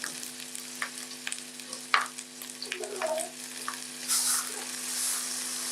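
Onions cooking in a pan for greens (mboga) give a soft, low sizzle with intermittent stirring scrapes and clinks, fairly quiet, with a steady hum underneath.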